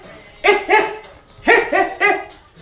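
A voice imitates a boxer's short breaths while punching: five sharp, close, loud voiced huffs in quick pairs, with brief pauses between them.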